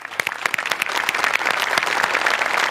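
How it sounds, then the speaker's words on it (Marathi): Audience at a Marathi comedy show breaking into loud, sustained clapping, dense and close, building slightly and continuing without a break. "एकदा जोरदार टाळ्या"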